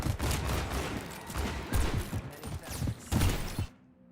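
Shooter video game gunfire: repeated loud bursts of rapid shots in quick succession, cutting off abruptly into near silence at the end.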